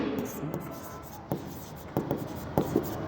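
Pen strokes scratch across a journal page in short bursts beneath a teacher's steady speech during an accounting lesson.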